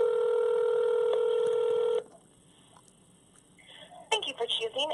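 Phone call placed to a hair studio: a steady, loud dialing tone holds for two seconds, then cuts to a quiet line with faint ring tones before a voice answers.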